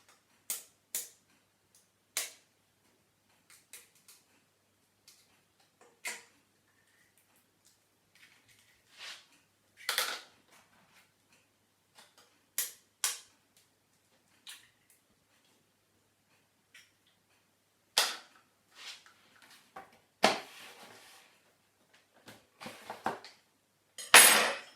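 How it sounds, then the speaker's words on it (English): Two eggs cracked into a bowl for pancake batter, heard as sharp isolated taps and clinks of shell against the rim, spaced out with quiet gaps and a louder clatter at the end. "to that we're going to add 2 eggs"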